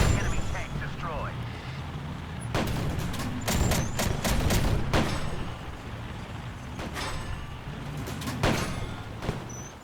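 In a video game, an enemy tank is destroyed amid loud cracking blasts and explosion bursts, several sharp impacts clustered together over a rumbling battle background.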